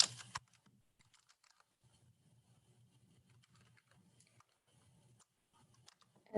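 Quick, light keystrokes on a computer keyboard while entering text into an Excel spreadsheet cell, tapping in short bursts with brief pauses, soft and close in an otherwise quiet room.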